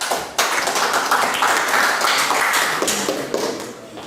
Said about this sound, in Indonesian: Kita beri aplaus dulu untuk kelompok 3